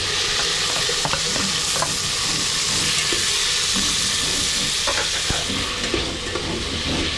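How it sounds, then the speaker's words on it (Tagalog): Onions sautéing in a hot pan give a loud, dense, continuous sizzle with scattered crackles and occasional utensil scrapes, close up and steady throughout with no voices. "Siyempre, ilalagay natin yung sibuyas."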